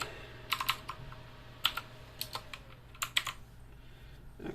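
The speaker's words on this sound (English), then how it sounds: "let's type her password in one hand" A password being typed one-handed on a computer keyboard: scattered close key clicks in irregular bursts, fairly quiet with no talking.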